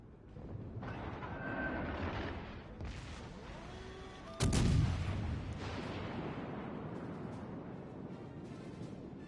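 A heavy warship artillery salvo booms in World of Warships Legends, one loud blast partway through over a steady rumbling game background and faint tonal cues.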